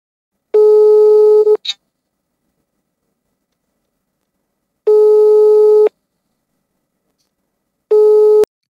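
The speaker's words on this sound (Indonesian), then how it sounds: "langsung aja kita hubungi Ustadz Zulham untuk pertanyaan yang ketiga" Phone line ringback while dialing in to a live call-in show: steady electronic tone bursts about a second long, separated by several seconds of silence, clear and loud with no voices.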